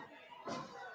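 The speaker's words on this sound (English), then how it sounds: "Technically sound body slam from Hazuki." A single heavy body slam onto a wrestling mat by Hazuki lands as one sharp thud midway through, over a steady murmur of crowd noise and talk.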